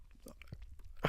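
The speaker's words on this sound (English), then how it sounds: "You got to listen to us chew again." People chewing bread up close, a few soft crunchy bites with a louder bite near the end, with brief faint voice sounds between the chews.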